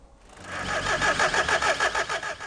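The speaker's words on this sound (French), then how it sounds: "le poste essai moteur, c'est-à-dire mise en route, test du joint de culasse" A car engine at a vehicle dismantler's engine test station cranks and catches, then runs with a steady pulsing throb, near and fairly loud.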